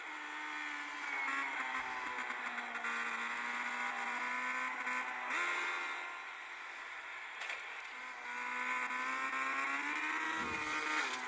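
A race car engine in the Asphalt racing video game, a sustained high-pitched whine that holds steady and shifts slightly in pitch, with faint skids and tire squeals now and then, quiet and with no talk.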